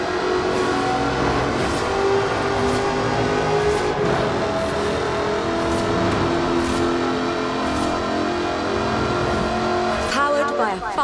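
Supercharged 5-litre V8 in an aluminium-bodied British sports car racing in Forza Horizon 4, a loud continuous engine roar holding steady throughout with a brief tire squeal or shift near the end.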